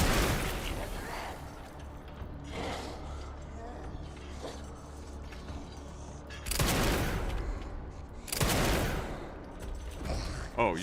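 Gunfire in the game Resident Evil Requiem, heard as a few loud bursts of shots and impacts over a dense, rumbling game soundscape.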